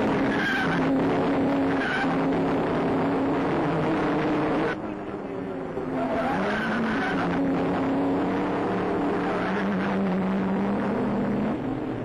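Vintage Alfa Romeo race cars in a classic Grand Prix, engines droning and whining continuously with shifting pitch, under old newsreel hum and a narrator's voice.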